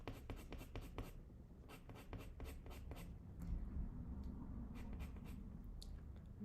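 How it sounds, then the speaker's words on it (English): A colored pencil is pressed hard onto paper in quick repeated strokes, close and scratchy, working dark shading into a portrait in steady bursts. "you need to really press your pencil very hard so we could get like the best possible results"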